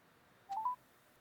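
A short burst of telephone keypad dialing tones, three quick rising beeps in a row, faint and clean against a quiet background, as a call is placed back to a caller whose phone died.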